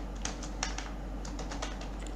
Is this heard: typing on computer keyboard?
yes